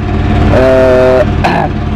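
A ZH 1130K 30 PK diesel engine with a leaking head gasket runs steadily and loudly up close, its low throbbing hum broken briefly by a higher whine.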